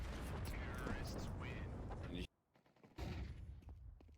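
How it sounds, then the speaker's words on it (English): Desert Eagle shots ring out in a Counter-Strike pro match between BIG and BLEED, loud sharp bursts amid dense game noise under excited commentary, cut by a brief near-silent gap before the action resumes. "There's an easy deagle headshot"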